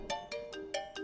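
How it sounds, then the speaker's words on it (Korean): A phone ringing late at night with a steady electronic ringtone, five short bright bursts in an even rhythm, faint and alone. "밤늦게 울린 전화"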